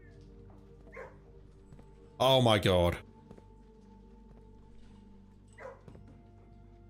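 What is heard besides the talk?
hounds barking in kennel, from the video game Blue Prince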